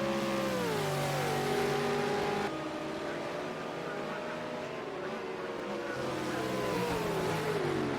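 V8 Supercars roar past on the Long Beach street circuit in a sim racing game, engines rising and falling in pitch through gear changes, moderately loud, with a faint hint of commentary.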